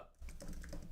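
Fingers tapping out text on an iPad Pro touchscreen: a few soft, brief taps over a steady low background rumble, close by.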